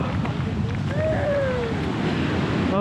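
Ocean waves at the Klamath River mouth, a steady wash of surf with wind buffeting the microphone, continuous and fairly close, with faint birdlike whistles.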